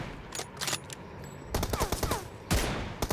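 Bursts of rapid gunfire from a team deathmatch shooter game, several loud volleys with short gaps between them, one near the start and heavier ones later, with no talk.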